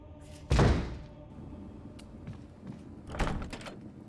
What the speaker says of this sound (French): La porte est verrouillée depuis l'autre côté.